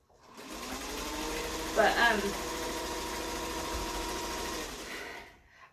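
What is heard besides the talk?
sewing machine stitching a quilt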